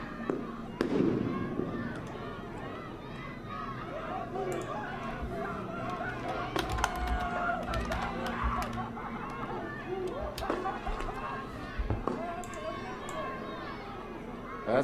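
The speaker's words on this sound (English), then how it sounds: "That's tear gas, that first one." Tear gas canisters fired at a street protest, sharp bangs and pops among a loud, chaotic crowd with shouting and running, sustained near and busy throughout.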